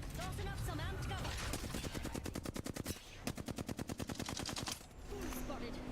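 Rapid automatic gunfire in a shooter game, a long rattling burst of evenly spaced shots lasting a couple of seconds, preceded and followed by other game effects, with a voice talking nearby.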